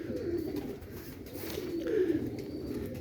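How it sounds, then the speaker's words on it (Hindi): A black pigeon cooing nearby in a pigeon-racing loft, low throaty coos repeating in a soft rolling rhythm over faint ambient background, with no talking. "काला कबूतर है"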